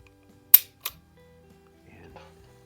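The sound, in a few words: S&W Model 10-5 revolver trigger pull, hammer click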